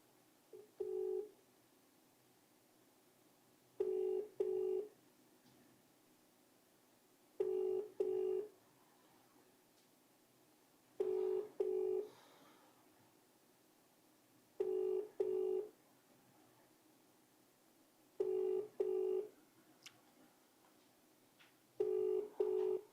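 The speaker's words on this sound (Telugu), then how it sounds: "ఒకసారి నేను మాధవరం కృష్ణారావు కాల్ చేద్దాం." An outgoing telephone call rings back in a repeating double-pulse pattern, seven paired rings spaced evenly a few seconds apart, clear over a quiet background with no speech.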